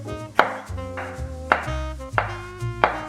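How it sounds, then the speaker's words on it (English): Knife chopping scallions, coriander and green pepper on a board, four sharp spaced strikes close by with tonal ringing background, no speech. "Now cut some scallions, coriander, and green pepper."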